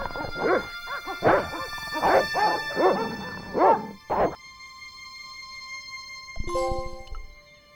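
Dogs bark in the Broken Sword video game, a run of loud close barks and yelps over about four seconds, then a quiet pause and a short musical sting.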